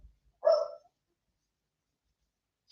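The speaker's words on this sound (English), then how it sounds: "So the wife's just taking the dogs out. They always have a nice bark before they go out because they're excited." A pair of dogs gives a short excited bark before a walk, one loud bark-like burst near the start, then quiet, then a faint brief yelp at the very end.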